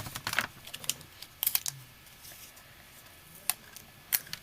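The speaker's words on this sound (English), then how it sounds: "tape it up" Hands tape shut a small paper blind bag, giving a string of crisp, close tape crackles and taps in short irregular bursts, with no talking.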